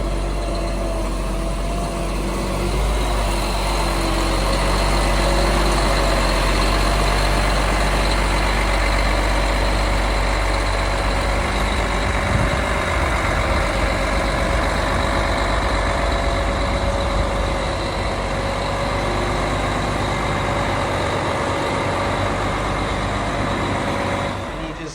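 Scania V8 truck engine running steadily, a deep low rumble with a constant mechanical hum that holds at an even, fairly loud level from start to finish.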